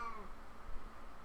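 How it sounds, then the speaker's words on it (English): A cat gives a short, faint meow at a fan, the cry trailing off quickly over a steady low whirring hum. "So the cat's just screaming at the fan."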